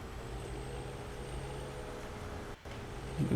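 Steady diesel drone of a wheel loader idling and working in Farming Simulator 17, close and even, with a brief dropout near the end before the engine note rises slightly.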